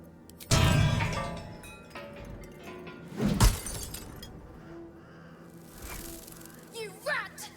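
A glass box shattering in the video game Baldur's Gate 3, a sharp loud crash followed by a second burst of breaking glass and tinkling shards, with a voice speaking between the impacts.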